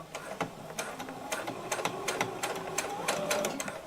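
A sewing machine stitching a zipper for a cosplay costume, a rapid mechanical run of needle clicks in short bursts with slight pauses, close and fairly quiet, with a faint voice in the background.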